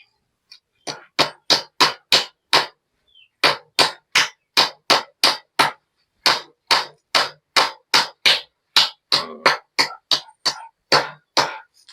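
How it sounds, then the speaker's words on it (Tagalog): Hammering nails while building a chicken range area under a goat house: loud, close, sharp strikes in quick regular runs of about six blows, separated by brief pauses. "Puro pako lang to, pakuan lang natin."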